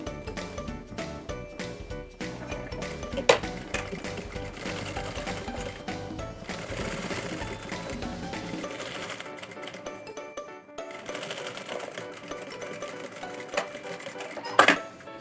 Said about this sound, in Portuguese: E vou passar uma costurinha pé de máquina, me certificando que o meu forro está totalmente para baixo